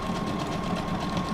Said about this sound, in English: So if you have a sewing machine with decorative stitches,